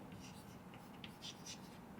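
Chalk scratching on a classroom board during an economics lesson, heard as a series of short, faint scraping strokes in irregular bursts against a quiet room.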